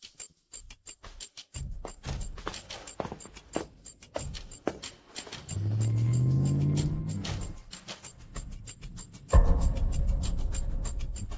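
A car drives along with a steady engine hum and road noise, rising in a brief acceleration and surging louder near the end, with clicks and knocks scattered throughout.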